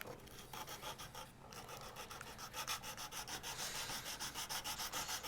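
Styrene plastic is sanded by hand in rapid back-and-forth strokes, close and scratchy. The rubbing rasp falls into a steady quick rhythm over several seconds and picks up near the end.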